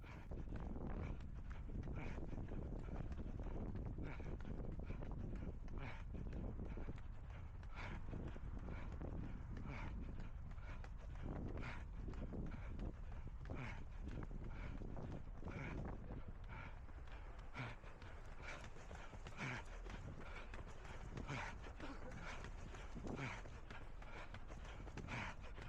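Strong gusts buffet the microphone during a windy parkrun in Exmouth, a continuous low rumbling roar with rhythmic footfalls of running beneath it.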